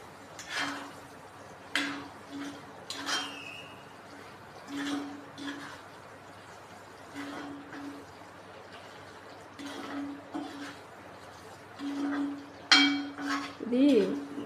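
Ingredients for a chicken pickle being stirred together in a metal pot in a home kitchen, with scattered clanks and scrapes of a spoon against the pot at an irregular pace, fairly close and moderate in volume.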